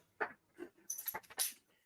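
A dog whimpers in a few short, high, nasal bursts close by, with brief gaps between them and no voices over it.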